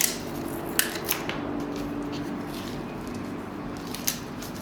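Tape being stuck onto a homemade kite, with crinkly rustling and a few sharp tearing or snipping clicks, close up and without talk.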